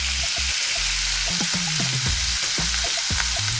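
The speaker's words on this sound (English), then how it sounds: "I'm going to put the first burger in." A thin smash burger patty fries in a hot pan, a loud, dense, hissing sizzle with scattered crackles and low knocks from the pan, continuous and close, without speech.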